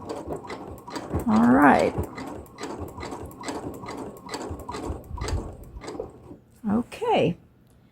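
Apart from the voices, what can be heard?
sewing machine back stitching a fabric tube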